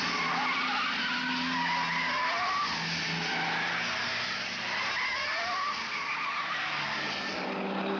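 Ford Falcon GTHO Phase 3 race cars running together on a circuit ahead of smaller cars, a steady loud roar of engines and tyre noise with rising and falling pitch throughout, no talking.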